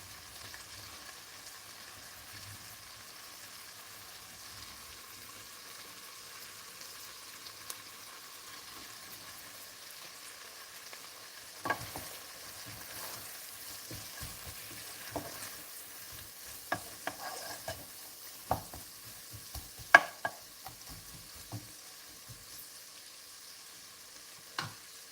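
Two onions fry in a pan for chicken à la king with a soft continuous sizzle, while a utensil stirs and scrapes in irregular clicks and knocks that grow busier partway through, close by, with no talk.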